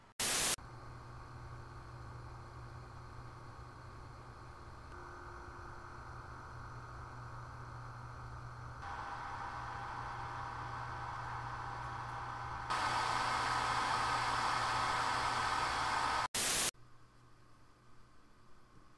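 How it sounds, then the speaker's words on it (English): Graphics card fans, a GTX 670 compared with a GTX 1070, give a steady broadband whoosh that steps up in loudness in stages as fan speed rises, then cuts off abruptly into quieter background noise. "the 670 is actually a much louder card than the 1070"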